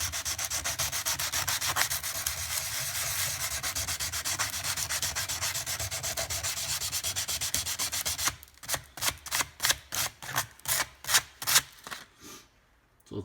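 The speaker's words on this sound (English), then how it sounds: "use some 100 grit paper and just sand that off a little bit" Sandpaper of 100 grit rubs a surface close up, first in a dense fast scrubbing run, then in slower, distinct back-and-forth strokes that stop briefly near the end.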